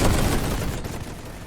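Heavy gunfire from the Great War 6.0 video game, a loud dense roar of overlapping rifle and machine gun shots that fades slightly toward the end, no talk.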